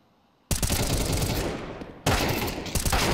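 In Counter-Strike on the Vertigo map, an MP9 fights against rifles. Loud, close bursts of rapid automatic fire start after a short quiet moment, ease off briefly, then erupt again with no voices.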